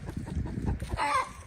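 Chickens in a coop give a rapid run of low clucks, then a higher, drawn-out squawking call, close and moderately loud with no talking.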